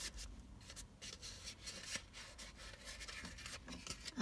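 Paper test tube holders are rubbed together in a quiet room, producing soft, continuous scratchy friction with rhythmic strokes and brief pauses.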